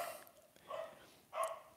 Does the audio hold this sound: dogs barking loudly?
yes